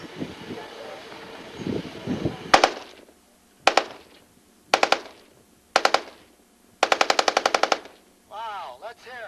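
A machine gun fires in short and long bursts at a 1993 live-fire demonstration, loud and close. Cracking volleys are spaced by pauses, the last and longest is a rapid string of about a dozen shots, and voices talk before and after.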